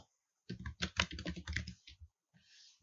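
Typing on a computer keyboard while entering a web page title, a quick close run of crisp key clicks, then a pause and a couple of stray taps.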